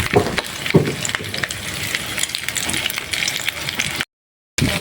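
Pork fat frying into chicharon, a steady close sizzle and crackle of hot oil with occasional sharper pops, running continuously before a brief cut to silence and back.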